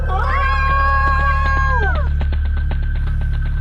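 Screaming people as a horror story sound effect: several drawn-out, wailing cries rise and fall together over a loud low hum, then break off into sharp clicks and knocks.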